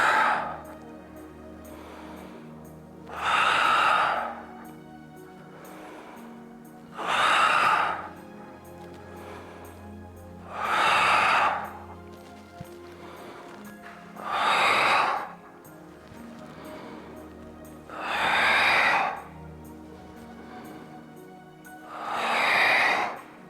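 Breath pushed out during abdominal exercises in a gym-yoga class, with six strong airy exhales at a steady rhythm of about one every four seconds, close and clear over a faint background hum.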